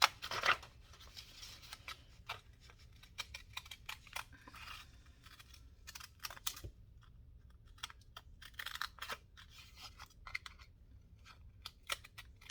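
Scissors cutting: many short, crisp snips and rustles coming in irregular clusters close by, with quiet gaps between bursts and no voices.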